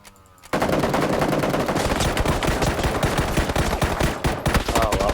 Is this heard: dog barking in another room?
no